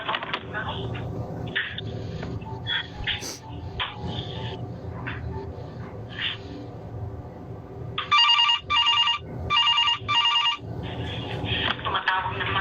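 A telephone rings with an incoming call: several loud, rapid electronic trill bursts in close sequence, following a stretch of indoor voices and background noise with what sounds like a dog.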